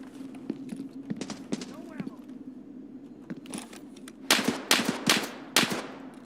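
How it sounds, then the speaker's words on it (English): Rapid bursts of gunfire from the video game Escape from Tarkov, several loud close volleys crackling near the end, after quieter scattered shots over a steady low hum. "Somebody's shooting at me."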